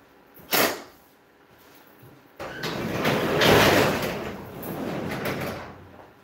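Van side door: a short sharp clunk of the lock releasing, then a louder rumbling slide of the door rolling open that lasts a few seconds, close by with no talk.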